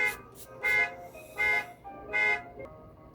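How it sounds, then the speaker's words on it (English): A neighbor's car alarm blaring nearby in repeated honking bursts, about four loud pulses at a steady rhythm with quieter gaps between. "my lovely neighbors with their annoying car that constantly, the alarm's constantly going off on the damn thing"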